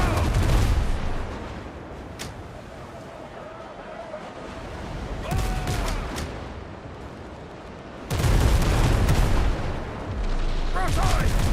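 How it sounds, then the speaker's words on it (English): Ship cannons fire broadside volleys in the pirate survival game Windrose, with heavy booms at several points over a steady ocean-surf wash, loudest near the end, while a voice talks over the battle. "Ready on the guns! Open fire!"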